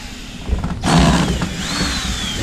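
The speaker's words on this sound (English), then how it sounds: "I am using a drill gun, wireless" Cordless drill driving out screws on a Mustang convertible top, a short whirring burst that rises in pitch and keeps spinning, close and loud with no talk.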